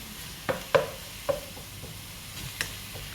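Chicken and long beans being stir-fried for a holy basil dish: a handful of distinct spatula scrapes and knocks against the pan, spaced irregularly over a faint, steady sizzle, with no talking.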